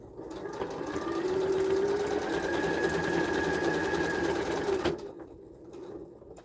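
Sewing machine basting a seam at 1/4 inch, running steadily for about five seconds with a fast mechanical whir, then stopping abruptly, leaving a quieter tail.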